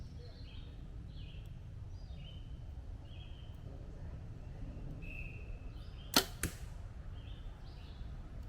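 Arrows fitted with Nock On Sonic KE nocks hitting an outdoor target: two sharp thwacks in quick succession, close and clear over a steady background of chirping birds, no talking.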